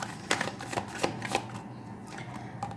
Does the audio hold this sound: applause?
no